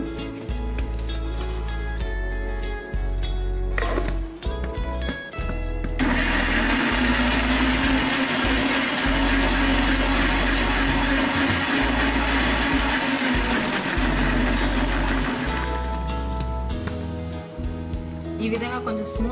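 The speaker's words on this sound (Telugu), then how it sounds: "ఇప్పుడు కొంచెం బ్లెండ్ చేసుకోవాలి." A blender whirs loudly and steadily for about ten seconds as it blends muskmelon with cool milk, starting abruptly and cutting off, with quieter kitchen clatter before and after.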